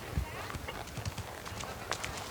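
A horse trotting over trot poles during a jumping lesson, rhythmic hoofbeats and light knocks at moderate distance under a person talking.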